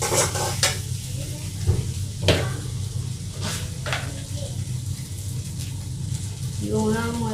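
Fish curry masala with chili powder, for a yogurt-mustard fish dish, sizzles in a pan while a spoon stirs and scrapes it in steady close strokes, and a voice speaks over the frying.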